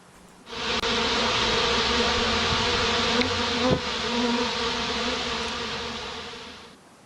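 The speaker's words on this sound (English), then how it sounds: "That's why we had the sound of the bees right there." A loud, steady swarm of buzzing bees drones continuously for several seconds, with a few brief clicks near the start and middle and no voices.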